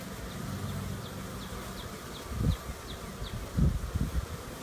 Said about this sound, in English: There's a buzz over here.